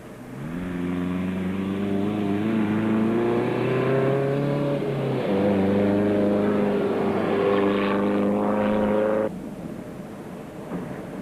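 Rally racing engines: a Castrol Toyota Hilux and a diesel-powered Nissan hardbody roar past loudly and steadily, pitch shifting as they pass, then the engine noise drops away to a distant hum near the end.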